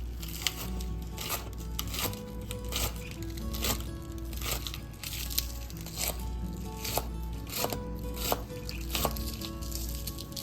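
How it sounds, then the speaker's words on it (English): A knife chops large scallions on a cutting board in a steady run of sharp, close taps, fairly quiet over a constant low kitchen hum. "I'll chop them up a little bit"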